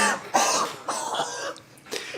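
A person coughs several times in a row, harsh bursts spaced across a couple of seconds with some throat clearing, close and fairly loud.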